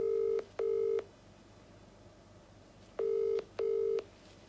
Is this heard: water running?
no